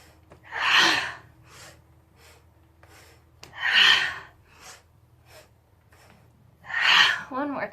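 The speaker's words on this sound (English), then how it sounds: "See if you can bring that ha breath into it a little bit" Three forceful, breathy 'ha' exhales during a gentle vinyasa yoga class, each a loud, close burst of air spaced about three seconds apart, with soft breathing in between.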